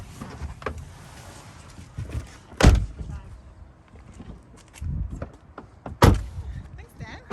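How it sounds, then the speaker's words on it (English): A door opens with two sharp knocking clunks a few seconds apart. Light handling noise comes between them, and voices are heard at times. "And open the door."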